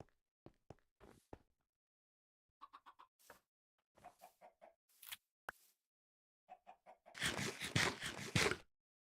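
Repeated short chicken clucks from a Skyblock video game, coming in quick bursts with gaps, ending in a louder, noisier flurry of flapping and squawking.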